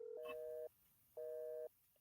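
Telephone busy signal on a call: two identical steady tone bursts about half a second long, separated by short silences, faint and clean with nothing else over them.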